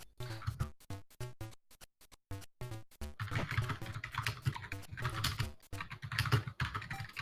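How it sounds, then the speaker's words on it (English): Fast, steady typing on a computer keyboard, close and crisp, with dense key clatter continuing almost without pause. "Mute yourself when you're typing"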